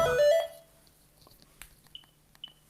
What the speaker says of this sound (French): Merci Seigneur pour le téléphone qui sonne.